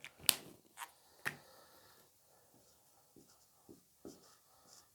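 Pen or pencil writing on paper during a Class 10 maths lesson on arithmetic progressions, a few short scratchy strokes and taps spread across the stretch, faint and close, with no talking.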